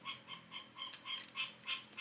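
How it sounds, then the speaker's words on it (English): A frog croaks in a steady run of short, evenly spaced chirping pulses, about three a second, fairly faint against a quiet background, with no voices. "Well, you need to get rid of that frog."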